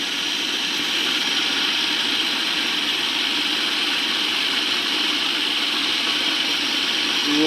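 A blender whirs at a lower speed, making pesto while oil is poured in: a loud, even, droning whine holds steady from start to finish, with no voices over it.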